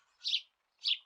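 Two short, bright bird chirps half a second apart in an animated fairy tale, close and clear against silence.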